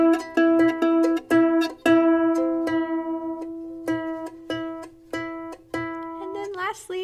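A ukulele's E string is plucked repeatedly during tuning, each clear ringing note decaying before the next, about a dozen evenly spaced plucks with a final slide of pitch as the peg is turned.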